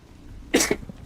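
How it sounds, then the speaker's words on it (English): A single short sneeze bursts out close to the microphone over a quiet background. "Big ol' sneeze."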